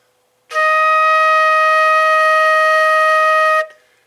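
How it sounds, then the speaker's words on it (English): Alone and up close, a flute sounds a steady E-flat for about three seconds after a brief pause, then the note stops cleanly and quiet returns. "the next note is E flat"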